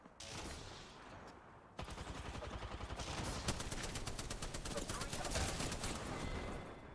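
Rapid automatic gunfire in a first-person shooter video game, fired as a long, dense burst of evenly spaced shots. The burst begins after a short stretch of quieter game noise and runs steadily to the end, with faint talk underneath.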